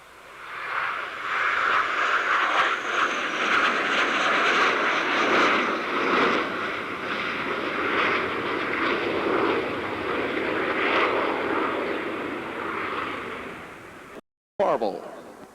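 An aircraft performs an inverted pass at an airshow, its engine drone rising from quiet into a sustained broad roar that fades slightly, with a commentator's voice over the public address.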